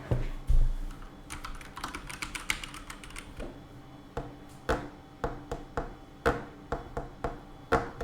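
Keys clack on a computer keyboard in a quick flurry of taps, then give way to slower, spaced single presses, close and crisp with no talking.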